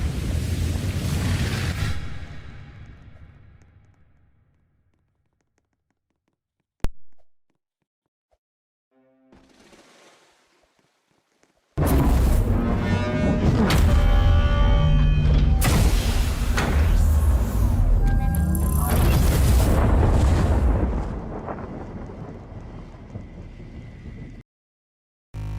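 A crystal overloading with energy and exploding in the Roblox game The Pentazone: a short rumble fades out, then after near-silence a sudden sustained loud roaring blast with crackling debris runs for about nine seconds before cutting off.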